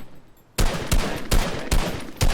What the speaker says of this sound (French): Tac, et là où vous tirez sur le cible.